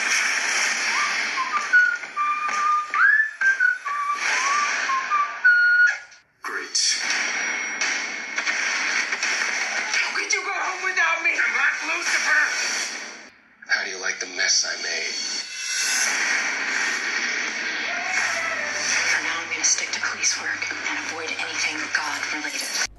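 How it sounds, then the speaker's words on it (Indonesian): Sound plays through the bottom mono speaker of a Vivo X50 Pro phone: loud, continuous music with bright whistle-like melodic lines and short pauses, a little thin in the low end. "Siapin headset kamu buat dengerin suara speakernya kayak gimana."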